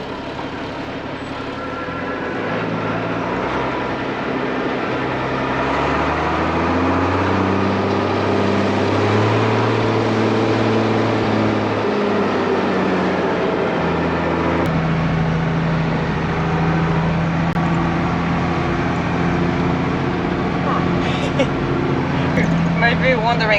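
An ex-army Unimog truck drives along a road, its diesel engine droning loudly and continuously with shifting low pitch as gears change, tyre and cab noise throughout, while people talk over it.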